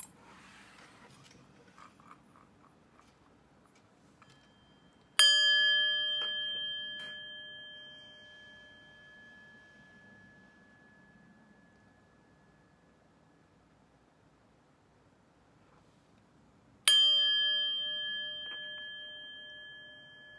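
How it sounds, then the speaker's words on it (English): Two bright metallic chime strikes used to clear energy before a reading, one near the start and another later, each ringing out in sustained overtones that slowly decay over a faint background hiss. "But first, let's chime."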